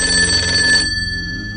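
A telephone rings with a loud, steady electronic trill that stops about halfway through, leaving a fading tonal hum.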